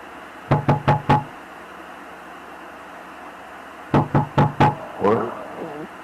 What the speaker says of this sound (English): Felix then receives a knock at his door.